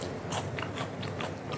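A crunchy bite into a crisp fried peixinho da horta, green beans in batter dipped in herb, lemon and garlic mayonnaise, giving a few sharp crackling crunches close up over steady background noise, with no talking.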